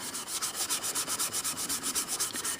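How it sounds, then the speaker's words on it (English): A Scotch-Brite pad rubs finish off a Philco radio cabinet in steady, rhythmic back-and-forth strokes, a close, scratchy scrubbing that repeats evenly throughout with no talk. "I'm going to take the Scotch-Brite and rub off a little bit more of that with this"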